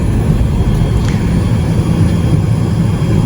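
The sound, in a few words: Hawker 800XP jet taxiing at night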